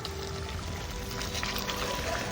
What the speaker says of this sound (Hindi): अब हम इसमें 1 कप घी शामिल करेंगे